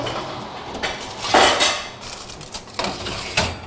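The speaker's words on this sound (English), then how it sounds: "I'm going to get my hot pizza stone out of the oven" A hot pizza stone comes out of the oven, bringing clattering knocks of stone and metal, a loud clunk followed by several sharper clanks and rattles of pans and racks, with no talking.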